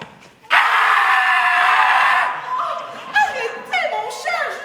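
A man's loud, piercing cry bursts out and holds for nearly two seconds, followed by shorter squealing, wavering yelps in a quiet room.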